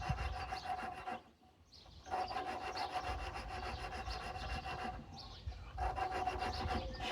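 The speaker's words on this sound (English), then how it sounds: "Both those pieces are grinding together." Engine valve being lapped against its seat on a 1950s Lincoln welder engine, a steady, close gritty rasping grind that runs continuously with two brief pauses, no voices.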